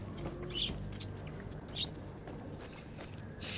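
Bird chirps in the Greedfall video game, two brief high calls over a low steady game ambience, fairly faint.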